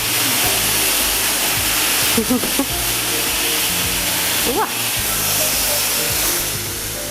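A vacuum cleaner runs loudly and steadily at close range during shared household cleaning, a constant broadband whoosh that briefly shifts in pitch as the nozzle moves, with a short exclamation from a voice over it.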